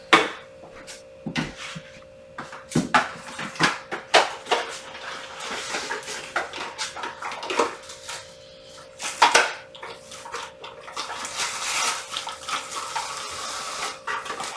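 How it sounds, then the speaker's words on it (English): Oil is rinsed off under a running kitchen tap while making challah, a steady hiss of flowing water broken by splashes and clattering knocks against a sink or bowl. "Just rinsing the oil off real quick."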